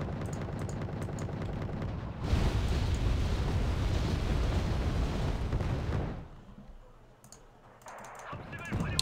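Gunfire and explosions in Wargame: Red Dragon, a dense roaring burst of battle noise that swells suddenly, holds for several seconds, then drops away to quieter scattered sounds.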